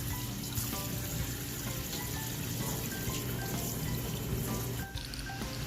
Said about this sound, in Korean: 물로 씻어 주시면 돼요.